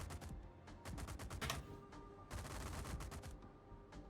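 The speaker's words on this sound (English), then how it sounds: "Yeah, the anti-air gun is firing back already." Rapid anti-aircraft gunfire rattles in dense bursts aboard an American Alabama battleship in World of Warships, loud and close, with a short lull before another sustained volley.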